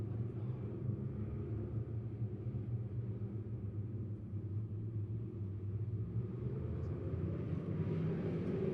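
Race cars roar along the front stretch of a dirt track at Lebanon Midway during a green, white, checkered finish, a sustained low engine rumble that swells slightly toward the end without any commentary.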